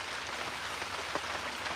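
Steady rain patters down outdoors in a dusty work yard, a dense, even hiss of drops on surfaces with a few slightly sharper individual splats, close and continuous with no voices.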